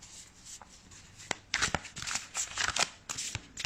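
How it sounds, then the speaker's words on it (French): Tarot cards are shuffled by hand in a series of quick riffling bursts and soft taps, close and fairly quiet, with short pauses between the shuffles. "Je bats les cartes en attendant que les personnes arrivent"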